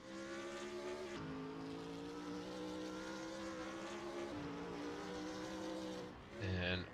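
A GT3 race car in a racing video game at the Hungaroring, engine holding a steady droning tone that dips briefly as gears change, with a sharper rev burst near the end, continuous and mid-loud.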